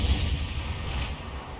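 The main gun of a Crusader 5.5-inch self-propelled artillery vehicle fires in a tank game, a single heavy boom with a deep rumbling tail fading over a second or so, loud and close, with no talk.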